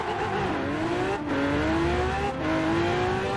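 A hypercar accelerates hard in Forza Horizon 4, its loud engine note climbing steadily in pitch, dipping briefly at two gear shifts, then rising again, with no talking.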